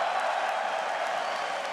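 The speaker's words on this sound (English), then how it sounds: "And everybody cheering you here." Dense, steady roar of a large arena crowd cheering and applauding at the Air Canada Centre in Toronto during a League of Legends esports championship final, heard continuously at a distance.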